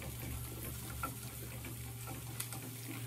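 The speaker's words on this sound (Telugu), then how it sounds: "ఆ తర్వాత 1 కప్ ఆనియన్స్ కూడా వేసుకొని ఫ్రై చేసుకోవాలి." Chopped onions frying in hot oil with dried red chillies in a pan, a faint, steady sizzle and crackle throughout with no talking.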